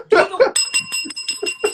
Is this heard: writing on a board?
no